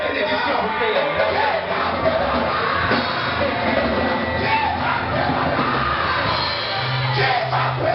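A church congregation shouts and cries out loudly together, a dense, sustained roar of many voices filling the hall without pause for the whole stretch.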